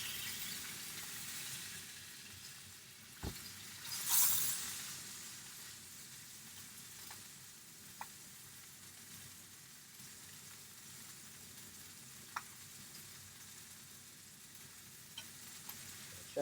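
Beef sizzling steadily in a hot pan while being seared, a quiet, even crackle running throughout with a few brief clicks and one louder burst of sizzle near the start.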